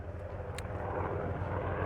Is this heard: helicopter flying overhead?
yes